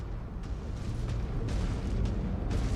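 Sustained anti-aircraft fire in a MechWarrior battle against tanks and VTOLs: a dense, continuous low rumble of distant flak with repeated soft bursts and thuds, no voices.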